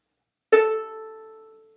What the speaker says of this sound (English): Now, on our violin, that's going to be our open A string.